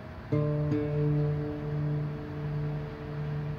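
Two guitar strings plucked together at the fifth fret, ringing out clearly and sustaining, with a quick second pluck just after the first.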